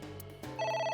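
A telephone rings in the video game AI: The Somnium Files, with bright electronic ringtone tones starting partway through over low background game sound. No one speaks.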